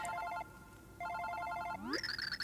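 A phone rings in the Super Paper Mario video game: two bursts of a repeating electronic trill separated by a short pause, then a rising tone leading into a higher chirping ringtone.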